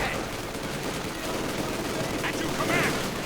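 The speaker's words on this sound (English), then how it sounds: "We are seeing concentrated fire, increasing the accuracy and the rate of fire of weapons." Machine guns fire in a Company of Heroes 2 battle as a dense, continuous roar of rapid gunfire and explosions, loud and close, with a voice speaking over it.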